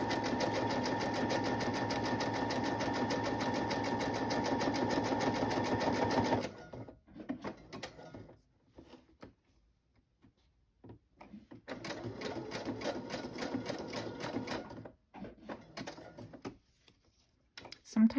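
A sewing machine stitches around the edge of a piece of Americana-style paper ephemera in two loud, steady runs of rapid stitching, separated by a quiet pause with small handling sounds.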